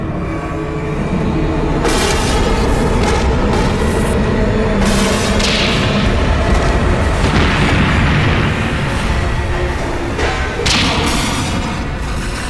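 A dramatized explosion at a nuclear power plant, a loud continuous roaring rumble with repeated heavy booms and bursts layered on top, sustained and powerful throughout without any talking.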